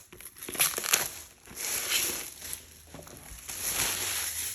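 Plastic and cardboard packaging of a Warhammer Quest Cursed City box being torn and crinkled open at close range, in several loud bursts of ripping and crumpling, with no talk.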